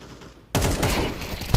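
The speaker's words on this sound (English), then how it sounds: "Nice wall bang." Rapid gunfire sprays through a wall in Counter-Strike 2: a loud burst kicks in abruptly after a quiet moment and continues as dense, sustained shooting, with one more sharp crack at the very end.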